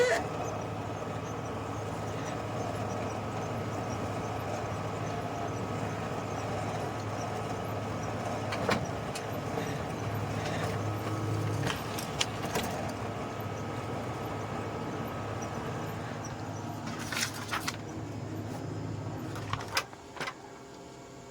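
Toshiba e-Studio 2309A photocopier running a duplex copy job, a steady mechanical hum and whir of rollers and motors throughout, with brief clicks and clacks of paper handling near the end.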